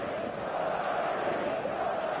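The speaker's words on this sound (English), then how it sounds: "There's a real expectant buzz in the stadium" Stadium crowd in an eFootball match hums with a steady, expectant buzz, a continuous wash of many distant voices without distinct cheers.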